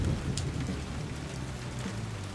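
A summer thunderstorm with steady rain, a dense hiss of falling drops mixed with low rolling thunder, continuous and moderately loud with no voices.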